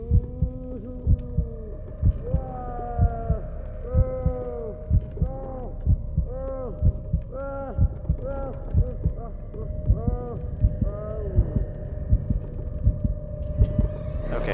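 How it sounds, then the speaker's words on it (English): Rapid thumping heartbeat from the Call of Cthulhu video game pulses in a steady quick rhythm for the whole stretch, layered over a sustained tonal hum and shifting eerie tones. "my heartbeat's getting real fast"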